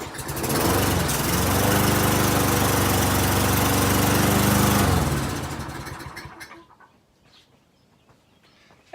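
A traded-in lawnmower engine fires up loud and close, running at a steady roar for several seconds before winding down and cutting out, followed by quiet with faint clicks.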